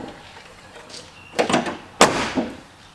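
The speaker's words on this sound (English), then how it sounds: "let's open the side door over this here" The sliding side door of an AWD Mercedes Sprinter camper van is worked open, a pair of sharp clunks and a short rolling rattle, close by, with a brief voice.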